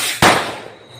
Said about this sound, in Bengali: বাজি পোড়ানো, বাজি পোড়ানো, বাজি পোড়ানো।